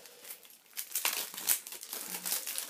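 A gift package is opened, with close, faint crinkling and tearing of wrapping in irregular rustling bursts.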